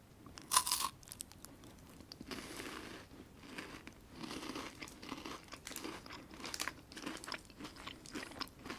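Bites and chewing of international chocolate candy, a sharp crunchy bite followed by several seconds of soft, close crunching and mastication with faint wrapper crinkles, quiet and without talk.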